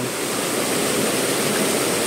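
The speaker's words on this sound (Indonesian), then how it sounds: "Itu ada air terjun ya kan?" A waterfall roars with a dense, steady wash of rushing water, loud and constant, with no voices.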